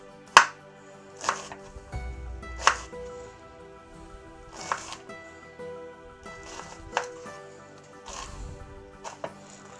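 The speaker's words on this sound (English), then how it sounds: "Then I like to finely chop. For this I shall grab my chef's knife" A chef's knife finely chopping onion on a board, with about ten separate, uneven thuds spaced across the stretch, close and fairly quiet, no one talking.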